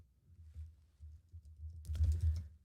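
Soft keystrokes tap on a computer keyboard, faint and intermittent at first, then turning into a quicker, denser run of clicks near the end.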